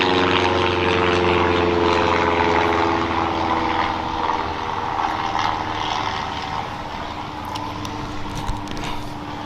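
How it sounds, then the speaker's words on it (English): A propeller airplane passes overhead near a school, its steady droning roar loud and continuous, easing slightly as it moves away. "It's the second damn plane coming through"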